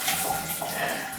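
Cold water running through household shower plumbing with air trapped in the pipes: a steady hissing, splashing flow with sputtering irregularities, heard up close and alone.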